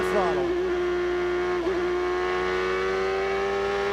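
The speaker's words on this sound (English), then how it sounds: "let's listen to the throttle" A 1998 Indy race car engine at Road America holds a steady high-pitched whine at near-constant revs, with a brief blip partway through, loud and close as if heard onboard.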